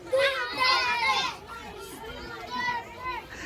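Children playing outdoors in a noisy group, several young voices shouting, squealing and chattering close by, loud and continuous with brief dips.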